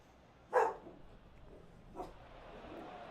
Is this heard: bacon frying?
no